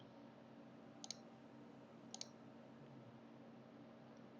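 A computer mouse gives two quick, faint double clicks about a second apart against a quiet background hum while a mesh is edited in Blender.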